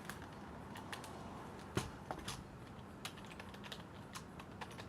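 A computer keyboard is typed on nearby in a quiet room, soft irregular key taps in short bursts with a few sharper clacks, faint and unaccompanied by talk.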